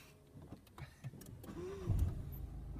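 A car engine hums quietly during a driving lesson as the clutch is raised and the car gently accelerates, with a few soft knocks and a faint rise in engine pitch.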